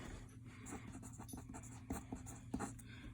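Pen scratching out equations by hand on paper for chemical engineering homework, a faint steady stream of soft strokes and taps with a low hum underneath.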